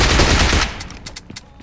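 An automatic gun in a battle-royale shooter game fires a loud, dense burst of rapid shots, then the firing thins into a few spaced, fading cracks.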